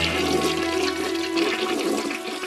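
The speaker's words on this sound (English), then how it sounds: "paper effigies of Mayor Tom Bradley and 14 LA City Council members were dropped into a toilet" A toilet flushes with paper effigies dropped into the bowl, a loud, steady rush of swirling water that churns evenly from start to finish.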